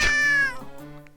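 A cat in the visual novel Chrono Clock gives one clear, close meow that slides downward and fades, with nothing else around it.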